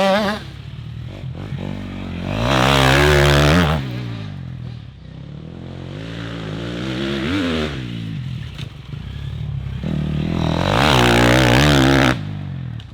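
A 2024 motorcycle passes through a corner several times during a riding lesson, its engine rising and falling in long revving sweeps. The bike draws near and loud, then fades before surging again.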